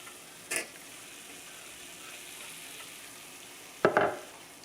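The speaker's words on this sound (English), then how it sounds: "Let's go ahead and add our tomatoes." Tomatoes and jalapeno fry over medium heat in a pan with a steady soft sizzle. Two brief louder scrapes of stirring stand out, and nobody speaks.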